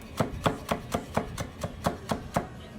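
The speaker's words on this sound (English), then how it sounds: "Dicing it really small." A knife dices food on a cutting board in a steady run of about ten sharp, evenly spaced chops, close and clear with no talking.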